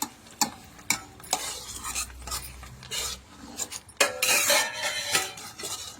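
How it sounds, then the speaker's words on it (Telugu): A spoon or ladle scrapes and stirs tamarind pulihora paste through cooked rice in a metal pot, with repeated clattering, rasping strokes at uneven intervals, close and fairly loud. "ఇగో ఈ గుజ్జును మనం ఇలా రైస్లోకి కలుపుకోవచ్చండి డైరెక్ట్గా"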